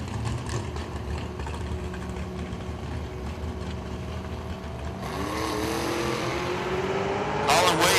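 A footbrake drag race between a Fox Body and an S10 at the Arkansas Footbrake Throwdown, with engine drone under an announcer's voice that swells into rising revving roars as the cars launch near the end.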